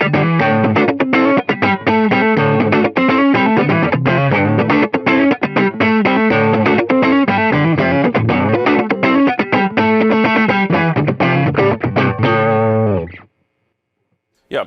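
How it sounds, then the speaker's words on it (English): Electric guitar played through a Klon-style overdrive pedal on the Jackson Audio Optimist, giving a loud, continuous run of articulate, dynamic chords and notes that stops abruptly near the end. "that's the Klon sound right there"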